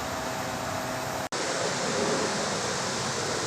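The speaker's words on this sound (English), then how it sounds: "It's draining into a can under the hood." Fuel drains into a can under the hood of a 1969 Dodge Coronet with a Hellcat engine, its fuel pump jumped and regulator disconnected. The flow makes a steady, hissing, rushing pour, broken once by a brief gap.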